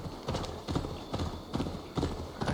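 A horse gallops in Assassin's Creed Valhalla, its hooves clip-clopping in a steady, repeating rhythm of loud, close thuds that carry straight through the whole stretch.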